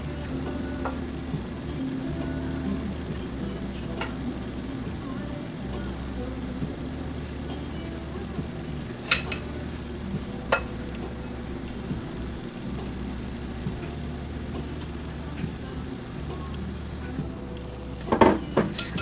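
Pancake batter frying in a pan gives a faint, steady sizzle under a constant low hum, with occasional clinks of utensils and brief louder knocks near the end.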